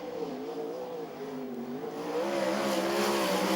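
A sprint car runs at Archerfield Speedway in a World Series Sprintcars finale, its engine howling with a wavering pitch that swells louder and brighter as the car approaches.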